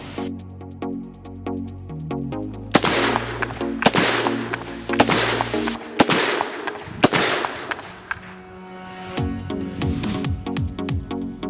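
Repeated loud, sharp reports from a Smith & Wesson 500 Magnum revolver with an 8-inch barrel and wooden grip, a string of cracks spaced a second or so apart over a droning background.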